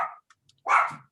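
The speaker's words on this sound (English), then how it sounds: "They're really good alert dogs." Dogs barking indoors as alert dogs, a short sharp bark at close range after a brief faint yip, with quiet gaps between.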